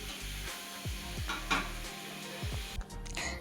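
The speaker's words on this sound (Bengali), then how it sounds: "তারপর এখানে চিকেন কষাচ্ছিলাম" Chicken is sautéed in a pan for a special family lunch, a steady sizzle broken by repeated scraping strokes of a spatula and faint clinks of cookware, close and moderately loud.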